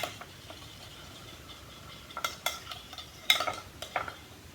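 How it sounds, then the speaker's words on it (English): Salad dressing of olive oil and a squeeze of lemon being mixed with a utensil, heard as soft intermittent clinks and scrapes against a dish over a low background hiss, growing a little busier toward the end. "1 tablespoon of olive oil and a squeeze of lemon. Yeah, mix it all up."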